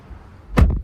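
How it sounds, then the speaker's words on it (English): A single solid thunk as the door of a 2026 Audi Q3 S-Line Quattro compact SUV swings shut, close and fairly loud, after a quiet moment. "Let's listen to this nice door thunk though."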